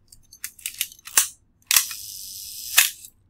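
A camera shutter fires at a one-second exposure: a sharp opening click, a roughly one-second gap of soft hiss, then a closing click, preceded by several quick mechanical clicks, close and clear.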